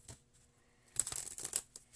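A deck of tarot cards is shuffled by hand, a soft quiet riffle that swells into a dense burst of flapping, crisp card sounds, close up, without talk.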